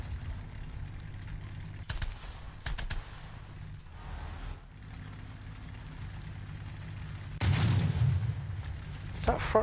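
Tank guns firing in a WWII-era armored combat game, a few sharp isolated shots spaced over a low engine rumble, with a louder burst of fire near the end.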